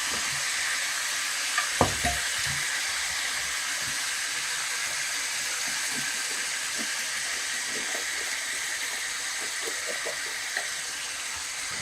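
Ground beef frying in a pan for 70s-style stuffed peppers hisses in a steady, even sizzle, with a few spoon knocks and scrapes early on and light stirring clicks later, close and moderately loud, with no speech.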